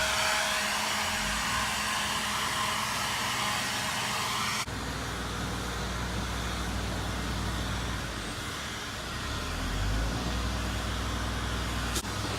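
A Ryobi P1100 battery-powered tool blows dead grass on a lawn with a steady loud whirring rush that shifts sharply in tone partway through, then dips briefly before surging again, close and alone.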